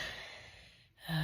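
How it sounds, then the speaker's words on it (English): One heavy exhaled breath at high altitude on the trek to Everest Base Camp, close and breathy, then a brief pause before the next breath begins against steady background noise. "Even just lying still means that you're breathing hard."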